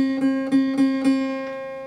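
A single guitar note on the first fret of the B string is plucked four times in an even rhythm, each pick ringing into the next, then a softer fifth pluck trails off.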